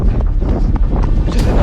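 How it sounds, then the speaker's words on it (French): Strong headwind buffeting a microphone during a sprint, a steady loud low roar and rumble filling the whole clip with no break. "J'ai le vent de face"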